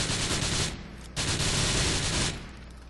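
Submachine gun fire in Grand Theft Auto IV, a loud continuous burst of rapid shots, a brief gap near the one-second mark, then another sustained burst that cuts off and leaves a tail.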